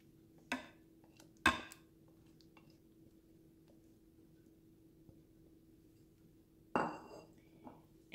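Banana cake batter ingredients go into a mixing bowl with a few sparse, faint clinks and knocks of a utensil against the bowl, separated by long quiet gaps.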